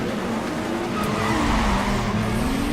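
In a Need for Speed Underground 2 race, a car spins out with a loud, sustained tire squeal over a roaring engine, close and continuous for a few seconds.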